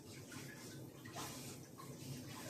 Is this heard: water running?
yes